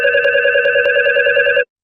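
A telephone bell ringing in a steady, loud, continuous trill that cuts off abruptly after about a second and a half, leaving silence.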